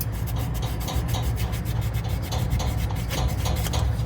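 A dollar bill is rubbed back and forth against a furnace flame sensor, making a close, continuous raspy scraping with quick repeated strokes and no talk.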